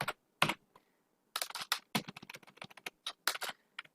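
A computer keyboard clatters under steady typing as HTML code is entered, close and fairly loud, in irregular bursts of quick keystrokes with brief pauses between them and no talking.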